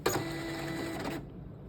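A dot matrix printer whirs and buzzes steadily for about a second as it feeds paper in, then cuts off sharply into quiet, heard up close with no voices.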